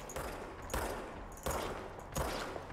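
Hip-fired gunfire in the video game Control comes in four sharp bursts spaced roughly evenly, each shot leaving a short rumbling tail. It sounds fairly quiet overall, with no talking.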